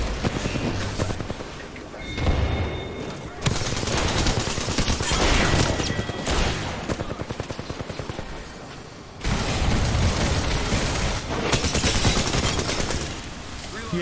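Video-game gunfire in a multiplayer shooter, sustained loud bursts of automatic fire and heavy impacts that run almost without a break, with brief drops in between and a voice talking over parts of it.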